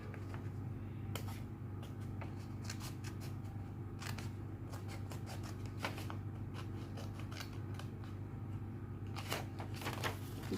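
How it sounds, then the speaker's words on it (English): Scissors snip through sewing fabric in a series of short, crisp cuts spread across the stretch, close to the microphone over a steady low background hum, while a belt bag is being made. "The next thing we're going to do is just to cut that out, cut that open."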